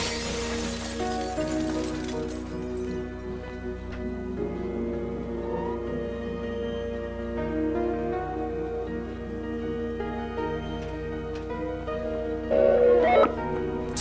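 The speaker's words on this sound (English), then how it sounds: "Use your dash to clear gaps and smash through glass panels." Glass panels shattering as a player dashes through them in a Roblox obstacle course, a bright crash near the start and another sharp burst near the end over steady game music.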